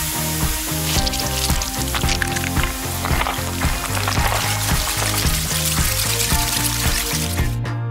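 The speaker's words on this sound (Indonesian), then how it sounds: "Dituang ke wajan biar langsung goreng donatnya" Donut batter frying in a hot pan of oil, a steady loud sizzle and crackle running throughout, mixed with cheerful background music and no talking.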